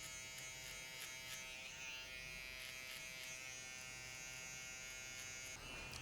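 Electric finishing trimmer buzzing steadily and close through a haircut, working from top to bottom on a client's high fade, a continuous hum with slight dips as it moves, no talking.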